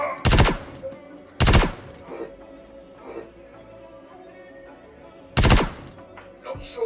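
Video game gunfire cracks out in loud bursts: two quick volleys close together, softer shots in between, then another heavy burst, all over a low ambient hum.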